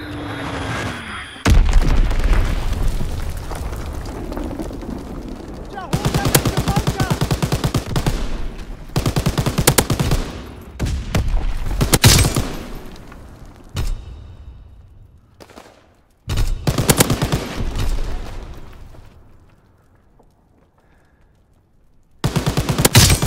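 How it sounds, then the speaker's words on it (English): Explosions from Fritz X bombs and bursts of gunfire in Call of Duty WWII come in loud, dense volleys. Sharp booms are separated by short quiet gaps. "dropping Fritz X-Bomb."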